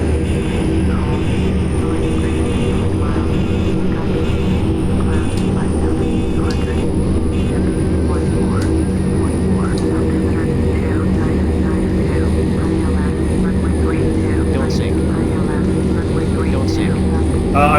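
A propeller airplane's engine drones loud and steady through a takeoff roll in the FSX flight simulator game, with someone talking over the continuous engine noise.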